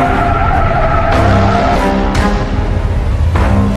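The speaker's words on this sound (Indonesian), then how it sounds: "tiba-tiba mobil mereka ditabrak" A car is struck in a crash, tires screeching loudly and skidding under a rising engine, with sharp impact bursts breaking through the squeal and a sudden cutoff at the end; nobody speaks.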